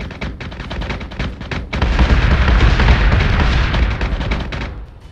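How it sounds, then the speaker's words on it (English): Spaceships exploding in the video game Battlestar Galactica Deadlock, with a loud, rapid crackle of gunfire-like bursts that swells into a heavy, rumbling explosion roar before fading. "You just saw them exploding like on the far left, didn't you?"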